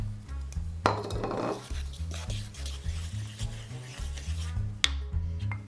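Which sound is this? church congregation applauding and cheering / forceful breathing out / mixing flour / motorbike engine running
mixing flour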